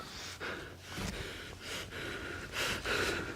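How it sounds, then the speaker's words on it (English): A man's heavy breathing from a played recording, a run of about six loud, rasping breaths in steady rhythm, each a broad airy swell, close and unaccompanied. "So noticing his breathing."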